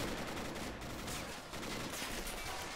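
Flak gun fire during a coastal defense battle in the game Men of War, a dense, continuous rattle of rapid shots.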